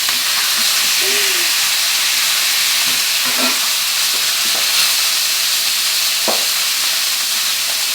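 Salmon frying in a pan, giving a loud, steady sizzle with faint clinks and light stirring sounds now and then.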